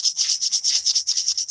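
Fine sandpaper is rubbed along the grain of a wooden ring, making a quick series of about eight close, hissing back-and-forth strokes in a steady rhythm.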